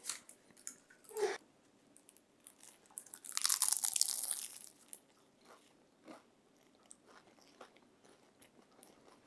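Crunchy bites into crispy, puffed baked banitsa pastries with flaky layered sheets, a couple of sharp crackling bites with a longer loud crunch in the middle, close up with quiet gaps between.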